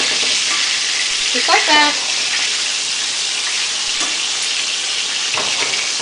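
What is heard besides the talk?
chicken frying in pan, being flipped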